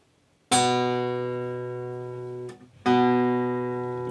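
A guitar note fretted with the finger pressed behind the fret rings out clearly twice, each bright attack followed by a long, slowly fading sustain, close and alone with no voices.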